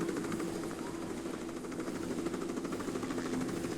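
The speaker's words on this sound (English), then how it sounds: "the chopper is not shooting at me, even though it's behind me" Helicopter in the video game Tomb Raider: The Angel of Darkness on industrial rooftops, a steady loud rotor thrum and engine whine droning throughout without a break.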